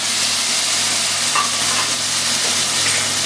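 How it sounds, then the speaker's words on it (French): Peeled tomatoes stirred into a pan of cooked tomato paste for rougail de saucisses, giving a steady, loud broadband sizzle and hiss throughout with faint stirring scrapes, no voices. "Maintenant, on va ajouter les tomates pelées."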